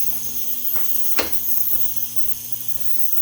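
A cheap espresso machine's steam wand hisses continuously while steaming oat milk, a steady moderate jet of wet steam with a few brief clicks and a low mechanical hum beneath.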